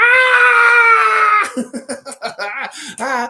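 A voice imitates a screaming beaver: a long, shrill, sustained scream followed by a rapid series of choppy, squealing yelps, loud and close with no other sound.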